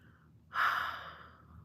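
A single drawn-out breath rises suddenly and then slowly fades, a loud yawn close by, heard alone in a quiet room with no talking.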